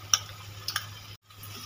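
Bengali masala paste with whisked yogurt, poppy seed, cashew and melon seed paste being stirred and fried for katla fish rezala, with soft sizzling, a few sharp spoon scrapes, a brief pause, then steady low frying again.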